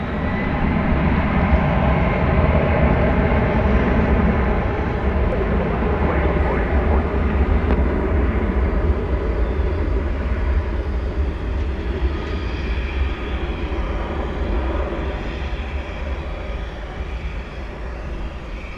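Jet airliner taking off at DFW Airport at night, a loud broad roar that slowly fades as it climbs away, with people talking faintly over it.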